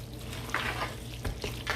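Sharp and medium cheddar cheese being stirred together in a bowl for mac and cheese, giving a steady soft scraping and stirring texture with a few brighter clicks of the utensil, close and moderately quiet, with no talking.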